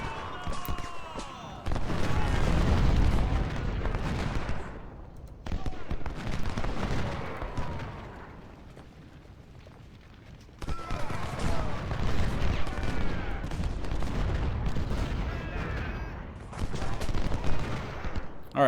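Artillery and musket fire in the Civil War strategy game Ultimate General: Civil War sound as dense bursts of booming volleys in several loud waves, separated by short quieter gaps.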